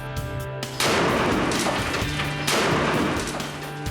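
Two heavy gunshot blasts from a banana-plugged gun barrel, each a sudden loud boom followed by a short decaying rumble, spaced about a second and a half apart.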